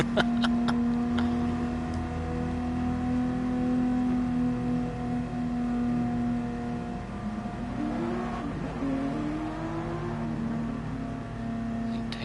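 A GTR car in a PS4 racing game revs and accelerates with a steady droning engine tone that climbs and shifts midway, loud and continuous over about twelve seconds.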